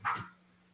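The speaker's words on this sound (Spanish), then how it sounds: "Está mi perro jugando atrás, ¿no? Se agarró la chancla de alguien." A pet dog at play in the background gives one short, faint bark or yip. It fades quickly into a quiet room hum.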